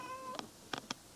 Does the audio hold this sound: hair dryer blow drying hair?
no